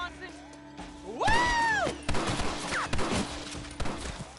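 Gunfire in a Red Dead video game shootout: several sharp, loud shots in quick irregular bursts, mixed with a shouted voice and other clattering impacts.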